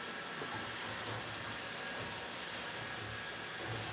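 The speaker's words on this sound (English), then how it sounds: "He just has his little sweeper arm and his little rollers, and he just cleans." Robot vacuum with a sweeper arm and rollers running across a home floor, a steady broadband whirring hum with a low motor drone, continuous and close, no talk.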